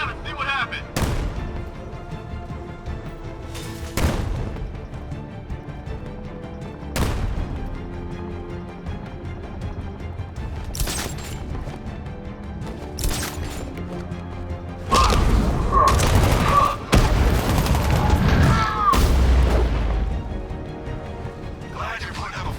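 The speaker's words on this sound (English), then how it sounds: "I'll shoot him down and see what happened." Loud bursts of gunfire and heavy impacts in the Batman: Arkham Knight video game on Miagani Island, separated by quieter ambient stretches, with a dense cluster of shots and crashes near the end.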